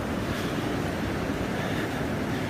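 Ocean waves wash in a dense, steady roar with heavy wind noise on the microphone, loud and constant with no distinct breaks.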